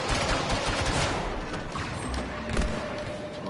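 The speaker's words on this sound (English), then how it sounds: "Automatic turret setup, let's do this" An automatic turret fires in the Star Wars Battlefront 2 video game, producing dense continuous rapid gunfire with thuds and blasts layered throughout, loud and chaotic.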